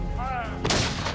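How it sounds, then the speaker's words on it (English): American cannons fire on the elite British 42nd Regiment, the Black Watch: a single loud, heavy boom bursts out after a steady low background and rolls on briefly. "American cannons zero in on the elite British 42nd Regiment"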